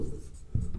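Marker or chalk writing on a classroom board, a short close scratching stroke that pauses and then resumes in two quick bursts, no voices.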